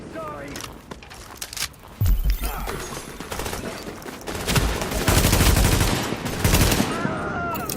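Gunfire from The Division video game, with bursts and volleys of shots rattling through a firefight alongside footsteps, building in intensity across the scene.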